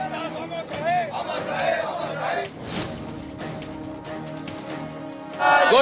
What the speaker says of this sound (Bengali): এরপর প্ল্যাকার্ড হাতে স্লোগান।